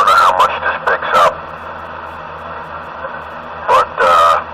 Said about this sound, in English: I don't know if you can hear the TV in the background.